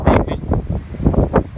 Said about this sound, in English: there goes the wind